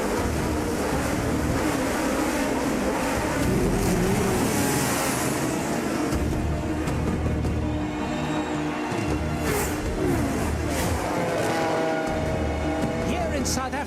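Formula One race cars, James Hunt's McLaren and Niki Lauda's Ferrari, race at a grand prix, producing a dense, loud, continuous roar of engines mixed with a broad rushing wash of noise.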